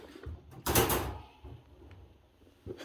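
A dog crate door swinging open during separation-anxiety training, giving a brief broadband rattle and clank with a faint click afterward, close and fairly loud in a quiet room.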